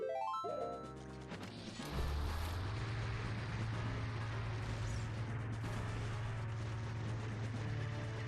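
Bomb explosions in the video game Ocarina of Time: a loud, dense crash that fills the whole clip, followed by a long sustained rumble with a low droning tone underneath and no speech.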